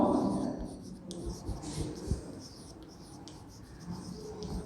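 Chalk or marker scratching across a classroom board as a teacher writes, a soft continuous scraping with brief taps and strokes, close and fairly quiet.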